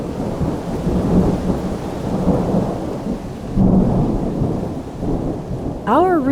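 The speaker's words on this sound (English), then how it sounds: "But I did record the storm." A thunderstorm in Alberta, with steady rain and low rolling thunder that holds loud throughout and swells in places. A few seconds of rising bird chirps come in at the very end.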